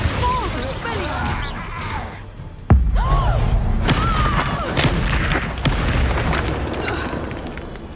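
Spell explosions in a Harry Potter video game: loud booms and crashes mixed with sweeping, whistling magical tones, one sharp heavy impact midway and further bursts after, with a busy game soundscape throughout.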